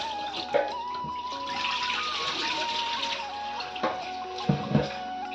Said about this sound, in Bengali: আর এখানে চাল ধুয়ে নিচ্ছি।